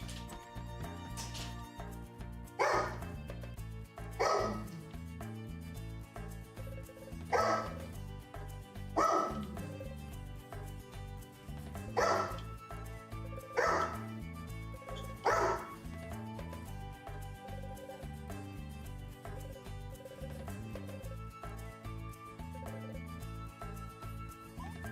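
Video game dog in Evoland 2 barks about eight times in a steady spaced rhythm over continuous background music.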